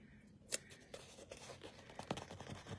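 Small scissors snip through paper stickers close by, a quiet sequence of sharp cuts and light paper rustles while decorating a bullet journal weekly layout.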